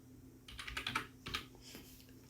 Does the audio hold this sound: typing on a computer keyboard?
yes